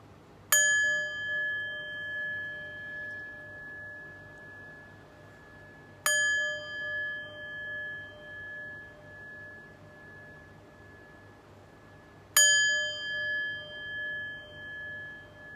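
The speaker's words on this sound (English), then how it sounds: "let's chime" Three bright chime strikes, each ringing out clearly and decaying slowly over several seconds, spaced about six seconds apart against a quiet low hum.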